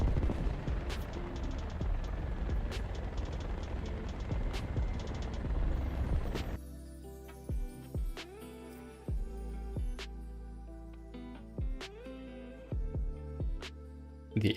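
Rockets and gunfire in War Thunder Ground Assault: a dense, loud roar of overlapping shots and blasts for several seconds, then quieter engine drone with repeated sharp whooshing rocket launches at irregular intervals.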